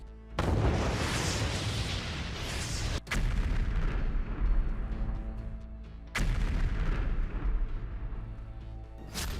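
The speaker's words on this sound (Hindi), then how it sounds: "यूक्रेन के शहर में नॉन स्टॉप धमाके हो रहे हैं" Heavy explosions boom repeatedly in a Ukrainian city during the Russia-Ukraine war, each a sudden loud blast followed by long rumbling echoes, with three distinct detonations across the stretch.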